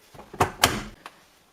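Door of a Samsung WW90TA046AX washing machine, two sharp clunks of it being handled and shut close up, followed by a fainter click, in a quiet room.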